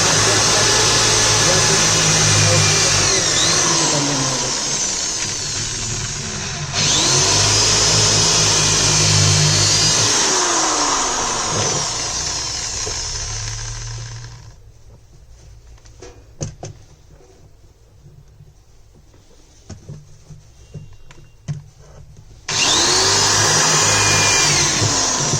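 An electric drill bores a hole in an electrical wiring board: a loud, steady motor whine runs in two long bursts, falls to near-quiet for several seconds, then starts up again near the end.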